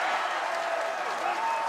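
A large arena crowd at the 2019 World's Strongest Man Atlas Stones event applauding and cheering, a dense, steady roar of clapping and voices throughout.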